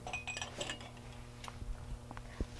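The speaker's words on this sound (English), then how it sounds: "getting some glass cups and stuff to break" Glass cups and dishes clink and tap together as they are handled, a scatter of light, close chinks with one sharper knock near the end, fairly quiet with no talking.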